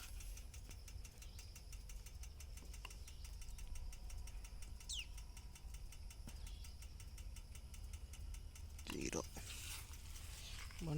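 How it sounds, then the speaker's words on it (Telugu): A motorcycle fitted with an NR Corbon antidote fuel device runs at a steady idle after starting, a continuous low engine drone with light knocking, while someone talks over it. "బండి స్టార్ట్ అయింది."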